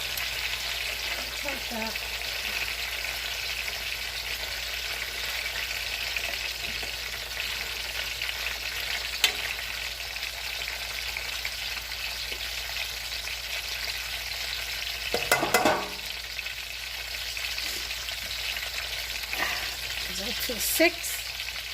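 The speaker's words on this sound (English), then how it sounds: "And you want a nice, gentle fry." Plantains fry gently in a pan, a steady soft sizzle running throughout with a few faint stirring clinks, while a person speaks briefly over it.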